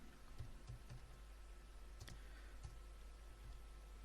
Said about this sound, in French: On va supprimer tout ça et on va taper notre texte.